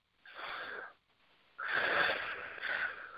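A person sitting upright with eyes closed takes slow, deep breaths through the nose. There are two airy inhales close up, the second longer and fuller, with a short pause between them.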